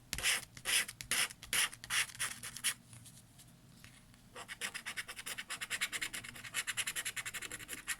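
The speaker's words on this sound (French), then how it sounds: "il reste 2 tickets cash à gratter pour terminer ce défi avec le gratteur du 30" A coin scrapes across an FDJ Cash scratch-card lottery ticket in close, quick rasping strokes. The strokes come in rhythmic bursts, pause briefly midway, then resume in a faster run.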